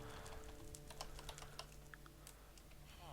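Steady, fairly fast typing on a computer keyboard during a Minecraft modpack livestream, with closely spaced key clicks running throughout and no one speaking.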